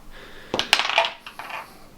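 Several dice clatter across a tabletop during a Warhammer 40k game, a few quick rattling bursts followed by a short tumble before settling.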